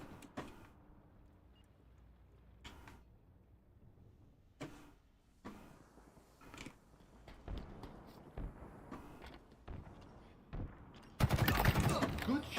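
Gunfire rattles through a Halo Infinite battle in sporadic bursts over a steady background rumble, closing in a loud sustained volley; a game voice speaks at times.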